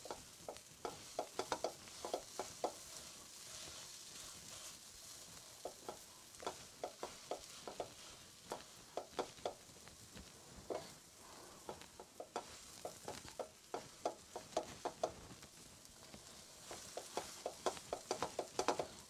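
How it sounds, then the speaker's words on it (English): Ginger, garlic and dried spices sizzle steadily in oil while a spoon scrapes and stirs the pan in repeated bursts, close and clear for beef curry, with no talking. "You have to fry that ginger and garlic and that dried spices."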